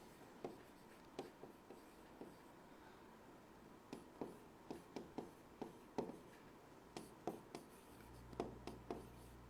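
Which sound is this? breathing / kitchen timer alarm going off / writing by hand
writing by hand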